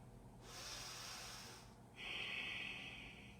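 Slow, deep breaths during a yoga pose: a soft, airy inhale followed by a steady, hissing exhale, close and quiet.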